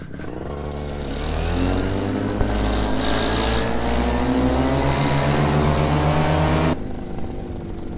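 Home-built Macnitrorazi paramotor with an Atom 80 engine droning steadily in flight, a loud buzzing tone that swells after a second and holds even, then drops off abruptly near the end.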